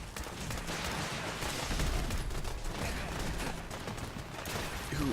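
Missile turrets in a Fallout game firing a dense barrage of rapid, overlapping gunshots and blasts, sustained and fairly loud for several seconds.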